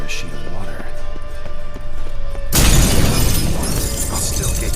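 A mirror shatters in The Witcher 3 video game, a sudden loud burst of breaking glass cutting in over a steady ambient game backdrop and continuing as a dense crash.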